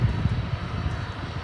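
An airplane at Dallas Fort Worth Airport bound for Rockford, heard as a continuous low engine rumble, moderately loud and steady, with no voices.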